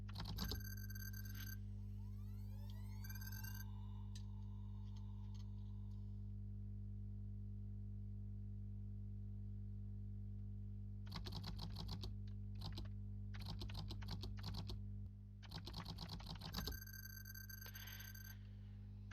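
Fingers type on a computer keyboard in quick clusters of close clicks over a steady low electrical hum, with long quiet stretches between bursts.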